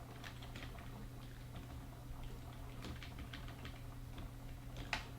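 Someone types on a computer keyboard. The quiet, uneven key clicks patter throughout, with a slightly louder tap near the end, over a faint background hum.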